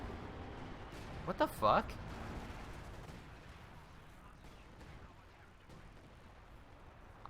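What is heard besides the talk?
Katyusha rocket artillery barrage in video game Company of Heroes 2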